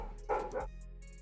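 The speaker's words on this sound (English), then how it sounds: "I'm sorry if you can hear my dog barking" A pet dog barks and yips indoors at moderate distance, a short burst of two or three barks with a faint whimper trailing after, over a low steady hum.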